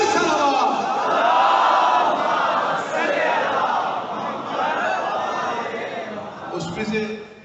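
A large gathering loudly chanting a salawat salutation together at a devotional manqabat recitation for 3 Shaban, a sustained unison roar of voices with rising and falling swells throughout.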